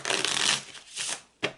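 Tarot playing cards being shuffled by hand in three riffling bursts, a long rustling run followed by two shorter flurries, close and clear with no talk.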